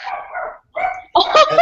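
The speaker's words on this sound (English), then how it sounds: "Poor dog." A dog barks three times in quick succession, loud and close, with short gaps between the barks.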